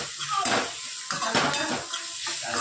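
Onions sizzle in a frying pan for sambhar, with green and red chilli and pickle spice, while a utensil scrapes and stirs them in quick strokes; a steady close hiss runs underneath.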